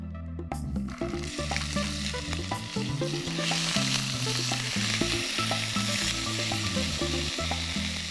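Mustard seeds, ginger and garlic fry in hot oil in a pan for a Chettinad vegetable curry, giving a loud, close, continuous sizzle with crackles and scraping stirs throughout.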